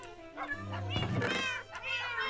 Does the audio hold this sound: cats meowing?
yes